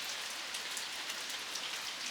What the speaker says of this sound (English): I love the rain.